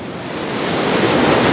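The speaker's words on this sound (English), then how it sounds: "You see that the waves have been coming up here." Ocean waves washing up a beach during an El Niño period of warm water, a loud close rushing surf that swells and grows steadily, with some wind noise on the microphone.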